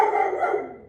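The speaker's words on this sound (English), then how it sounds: "Birdie, do you hear my doggy?" A pet dog at home gives a single loud, close bark that rings out and then fades away over about a second, with no talking.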